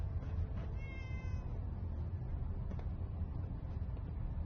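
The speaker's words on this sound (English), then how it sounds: "Wait, is that a cat?" A cat in the Fallout 4 video game gives a single short meow over a low steady ambient rumble.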